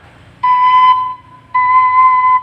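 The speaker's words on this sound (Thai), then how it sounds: "โดชาร์ปจริงปิดแบบนี้เสียงจะแน่นกว่านะครับ" A Thai khlui flute sounds a steady C sharp in two sustained held tones, each about half a second to a second long, separated by a short gap, clear and close with no talking.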